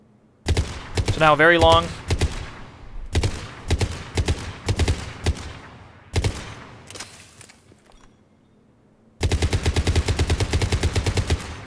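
Cerberus Harrier rifle fire in the video game Mass Effect 3 comes as short bursts of sharp, loud shots in a rapid automatic rhythm, then a long sustained full-auto burst at the end, with brief talk early on.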